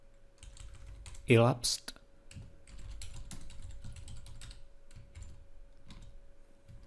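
Keys clatter on a computer keyboard while a script is typed, quick irregular taps with a few louder clicks near the start, under a man's quiet speech.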